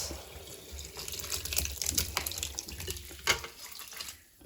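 Curdled milk pours through a fine mesh strainer and drains below with a close, splashing trickle of liquid that swells and fades in uneven bursts.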